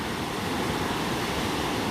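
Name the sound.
ocean waves cresting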